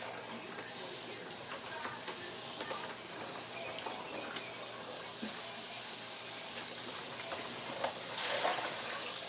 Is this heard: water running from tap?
yes